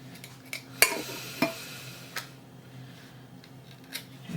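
Metal canning lids being set onto glass jars of dry-canned potatoes, a few sharp clicks and taps spaced irregularly over a quiet, faintly humming kitchen background.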